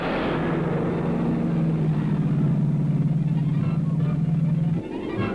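Early-1960s Ford Galaxie 500 and Chevrolet Impala stock cars race bumper to bumper at Riverside, a steady loud engine drone with a sustained low whine that holds for several seconds, then drops away near the end.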